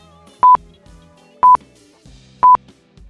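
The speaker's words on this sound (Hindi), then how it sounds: "इसका जवाब है मोबाइल फ़ोन।" Three crisp, loud dialing tones from a mobile phone, evenly spaced about a second apart, each a short double-pulse beep alone over faint background music.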